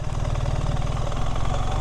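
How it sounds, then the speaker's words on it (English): A 2024 BMW R 1300 GS adventure motorcycle engine running with a noisy valve chain, giving a loud, close, even rumble with a rapid pulsing tractor-like chatter throughout. "you can't even hear it over the tractor noise coming from the motor. Yeah, this valve chain is noisy."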